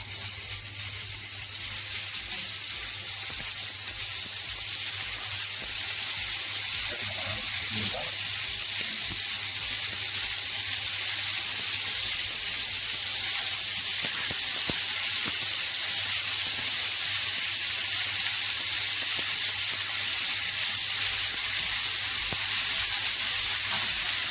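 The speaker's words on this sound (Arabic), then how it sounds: "هنبتدي ننزل قطع اللحم بتاعتنا كده بالشكل ده عشان تاخد ضربه النار" Beef pieces for pot kebab sear in hot oil with coarse spices, giving a steady, loud, continuous sizzle and hiss throughout, with faint background sounds beneath.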